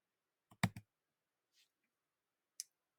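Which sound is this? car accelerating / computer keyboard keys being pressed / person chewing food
computer keyboard keys being pressed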